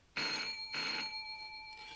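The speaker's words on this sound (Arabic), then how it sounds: "حد يرد على التليفون، يكون اخوكي عايز حاجة" A telephone bell rings in two clear bursts with a gap between them, then starts a third, loud and fairly close in a quiet room, with no one speaking over it.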